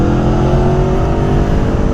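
A loud, close, steady exhaust roar from a sport motorcycle, either a BMW M1000 R or an Aprilia Tuono V4 Factory, revving under load for a couple of seconds without talk.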